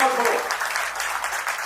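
Audience applause at an agricultural products talk in Surat, a dense crackle of many hands clapping with a voice over it, steady and fairly loud for a short burst.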